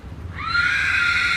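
A Sindhi stallion named Charger, bought in 2006 and kept at a stud farm in Surat, gives one loud, close, sustained whinny that rises and holds steady, standing clear of faint background noise.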